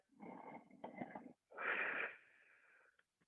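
Two breathy exhalations during a beginners Pilates class, the second long and airy with a slight wheeze, close and soft, separated by a short gap.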